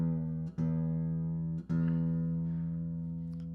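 A guitar's low E string plucked twice during tuning, each pluck a loud, close, sustained tone that rings out and slowly fades, with no voice.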